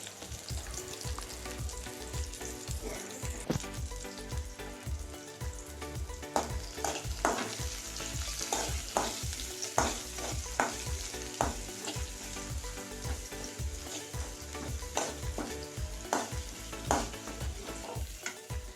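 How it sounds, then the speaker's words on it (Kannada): Chopped onion and garlic frying in oil in a pan, a steady close sizzle with crackling pops and occasional stirring scrapes throughout, with no talking. "ಈರುಳ್ಳಿ ಹಾಕಿ ಸ್ವಲ್ಪ, ಆಮೇಲೆ ಕಟ್ ಮಾಡಿದಂಥ ಬೆಳ್ಳುಳ್ಳಿ ಫ್ರೈ ಮಾಡಿಕೊಳ್ಬೇಕು."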